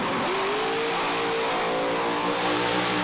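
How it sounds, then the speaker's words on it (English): A drag race car on the strip roars at close range, its engine note climbing sharply and then holding a loud, steady, high-revving howl through a launch pass, with no voices over it. "he'll bump the car in, get his finger on the button, the revs will automatically go up, and away he goes on hopefully a 5-second pass"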